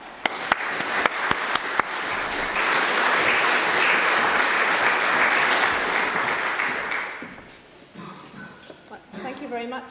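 A lecture-hall audience breaks into sustained applause to welcome a speaker at a public evening event, starting with a few sharp claps that swell into a dense, loud ovation before fading out as a voice begins.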